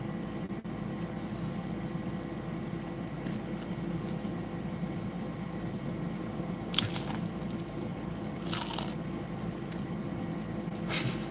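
Someone bites into crunchy pizza crust at close range. Two short crisp crunches stand out over a steady low background hum.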